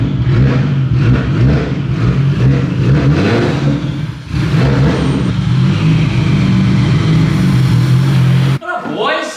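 A Nissan R34 GTR engine revs and pulls hard on back roads, a loud, close, sustained roar that dips briefly mid-run and then builds again before cutting off, with a voice talking over it.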